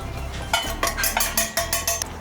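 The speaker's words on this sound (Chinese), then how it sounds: "一起搅拌均匀，就差不多可以了。" Chopped stem mustard, houttuynia root, scallion and a seasoning sauce are tossed together in a large bowl, producing about seven sharp, rhythmic clinks and scrapes close by.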